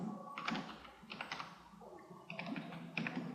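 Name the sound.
typing on a computer keyboard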